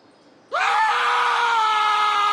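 A startled yeoman of the bowmen lets out a loud, sustained shriek in a Dr. Seuss story app, bursting from near silence and holding a strained, wavering cry for nearly two seconds without pause.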